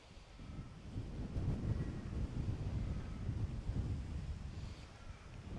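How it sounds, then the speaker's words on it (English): Gusty wind rushes steadily across an outdoor horse-training area where a 2-year-old Appaloosa is being worked, a continuous low buffeting roar close to the microphone with no one talking. "I'm a little bit conscious here of this wind coming up"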